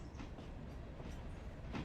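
A steam train rolls along the track in the Railroader video game, a steady low rumble with faint rhythmic clatter of wheels, alone and close.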